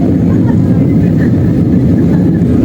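An airplane's engines roar steadily during the climb after takeoff, a loud, continuous low drone heard from inside the cabin with no break.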